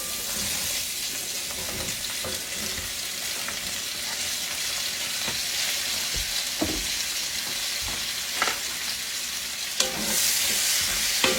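Zucchini sautéing in melted butter and olive oil in a hot skillet, a steady broad sizzle with occasional stirring scrapes and clacks, close and continuous throughout.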